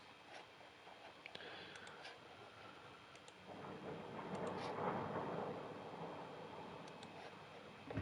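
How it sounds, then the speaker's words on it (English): Deep thunder rolls outside, heard from indoors as a low rumble that swells to a loud peak in the middle and then slowly fades, with faint ticking in the background. "there's some thunder outside"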